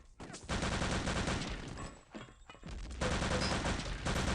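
Gunfire rattles in a Return to Castle Wolfenstein 3-on-3 match, with dense bursts of rapid automatic shots, a brief lull, then another sustained volley, moderately loud under faint game ambience.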